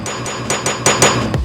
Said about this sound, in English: So here's a hammer.